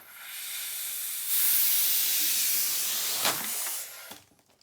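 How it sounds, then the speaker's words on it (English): Helium hissing steadily from a tank while balloons are filled for Christmas stockings, a continuous loud hiss that swells partway through and then cuts off near the end. "we've decided to fill the stockings with helium balloons"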